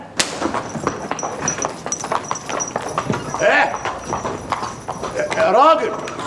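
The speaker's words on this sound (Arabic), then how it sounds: "اهو طلع حصان رزين قوي. حنطور تاني جاي اهو" Horse hooves clip-clop in a steady trot as a horse-drawn carriage passes on a street, heard close and clear under ongoing conversation, with a louder passing near the end.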